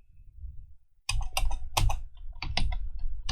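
Keys on a computer keyboard are struck in quick, close bursts of clicks while someone writes Django code, following a brief low murmur of background noise at the start.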